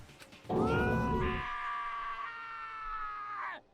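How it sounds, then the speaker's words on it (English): A loud scream from a character in the video game Danganronpa: a sudden raw outburst that stretches into a long sustained wail lasting about three seconds before cutting off, heard alone with no talk over it. "I heard screaming!"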